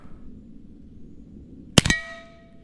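A Daisy Red Ryder BB pistol fires at a cowbell. A low room hum gives way to a sharp crack and a bright metallic clang, and the bell's ringing tones fade slowly.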